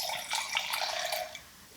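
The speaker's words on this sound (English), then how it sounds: "let's go ahead and pour a little bit into the glass" Chianti wine poured from a bottle into a glass, a short, soft trickling splash lasting about a second and a half, close and quiet with no talking.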